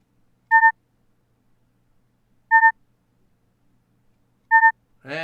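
KGS Go server overtime countdown sounding three identical dual-tone beeps spaced about two seconds apart, clean and loud against silence, with a brief voice starting at the very end.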